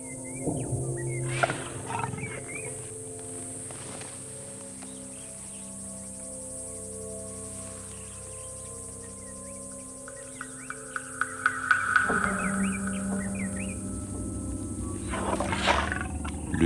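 A lion growls low and rumbling in the wild, a wary second big cat close by, with a heavier roar-like swell near the end over faint insect and bird sounds.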